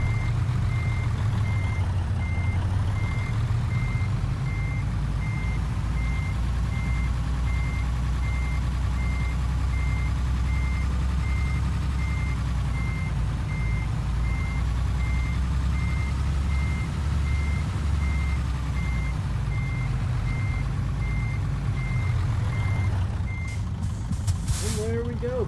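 Steady, evenly spaced reversing beeps from a truck backing into a parking spot in a European trucking video game, sounding over a loud continuous engine drone for the full length.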